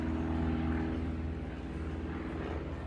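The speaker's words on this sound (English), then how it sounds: "See the plane, guys?" A propeller airplane drones low overhead, a steady loud engine hum with harmonic tones that fades slightly over a few seconds, with no talk.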